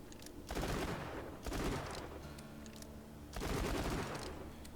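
Rapid gunfire from the Maggie pistol in Borderlands comes in dense bursts of fast, crackling shots, with louder volleys separated by brief lulls of quieter game sound.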